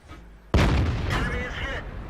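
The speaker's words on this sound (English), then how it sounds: "I think that was artillery. Yep, that was artillery" An artillery shell slams down in a World of Tanks battle, one sudden loud, close boom followed by a long rumbling, crackling decay.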